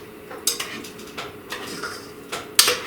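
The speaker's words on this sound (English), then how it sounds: "I'm going to take a bowl, and I'm going to put my mixture into this bowl" Chilled cookie mixture goes into a bowl with light clinks and taps of a utensil against the dish, a few sharper knocks scattered over a quiet, steady background.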